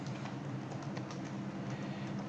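Someone types code on a computer keyboard, producing a steady, fast patter of light key clicks, close but quiet, over a constant low background hum.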